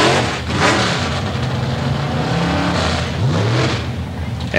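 A Plymouth drag race car roars loudly at a 1984 drag race, its engine note rising and surging steadily over several seconds amid heavy, dense mechanical noise.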